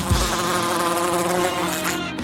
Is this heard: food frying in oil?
no